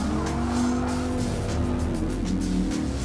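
A Dodge Viper SRT10 Coupe race car in Gran Turismo Sport, its engine droning loudly as tires squeal through corners, with other race cars nearby and no talk.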